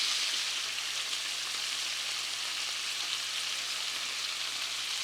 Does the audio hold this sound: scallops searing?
yes